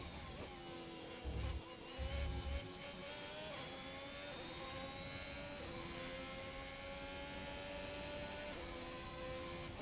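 An F1 car in the F1 2021 racing game climbs quickly up through the gears, its engine whine rising in repeated sweeps with brief low thumps near the start, loud and continuous without talk.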